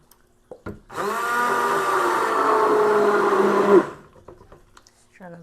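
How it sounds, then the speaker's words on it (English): A stick blender whirs steadily for about three seconds, blending oatmeal into cold-process soap batter, its motor pitch sagging slightly under load before cutting off, with clinks of handling before and after. "I'm gonna go in with my stick blender again"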